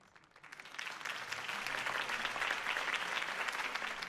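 A crowd applauds at a political campaign rally in the Telltale Batman video game. The clapping swells quickly and stays loud and sustained.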